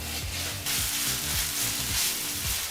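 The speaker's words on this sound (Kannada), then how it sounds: "1 ಟೇಬಲ್ ಸ್ಪೂನಷ್ಟು ಶುಂಠಿ ಬೆಳ್ಳುಳ್ಳಿ ಪೇಸ್ಟನ್ನು ಹಾಕಿ ಒಂದು 30 ಸೆಕೆಂಡ್ ಬೆರೆಸಿ ಬಿಸಿ ಮಾಡ್ಕೋಬೇಕು" Ginger garlic paste sizzles steadily in hot oil with fried onions, a loud continuous crackle with faint stirring scrapes and no talking.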